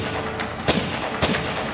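Two sharp rifle shots, set about half a second apart, crack out over a steady background hiss in a historical drama about Sattar Khan, the Constitutional Revolution hero, firing from a rooftop barricade in Tabriz.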